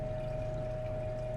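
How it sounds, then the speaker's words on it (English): Liquid waste from a gold refining process being poured from a beaker into a waste container, a steady soft trickle over a low background hum and a faint constant tone. "So now we'll pour this waste"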